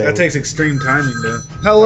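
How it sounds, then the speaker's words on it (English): A 1960s house phone rings with a steady electronic trill that runs beneath continuous nearby talk throughout. "that was the phone"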